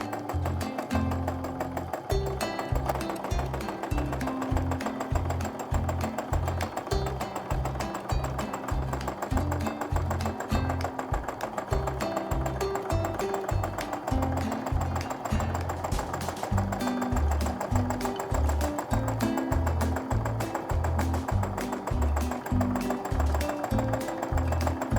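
A sewing machine stitches an overall swirl pattern across a quilt, its needle thumping in a fast, steady, regular rhythm with a low mechanical hum underneath, close and continuous throughout.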